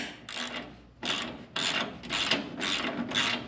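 A ratchet cranks in rapid clicking bursts while tightening a trailing arm crossmember on a car, several short runs of metallic ticking separated by brief pauses, close and fairly loud.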